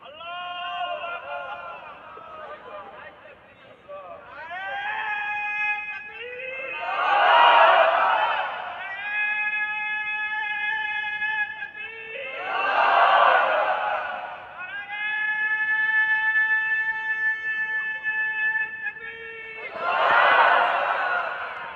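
A crowd at an Islamic religious gathering shouts the takbir, Allahu Akbar, in loud collective bursts repeated three times, alternating with a man's sustained chanted lead voice.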